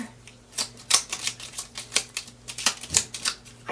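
Tarot cards being shuffled by hand, a rapid irregular series of crisp papery riffles and taps, close and moderately quiet, with no talking.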